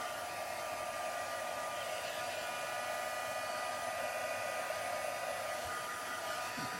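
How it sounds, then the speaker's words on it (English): Hair dryer blowing steadily on a mixed media craft piece, a loud continuous close-up whoosh lasting the whole time with no talking. "I'm going to quickly dry it."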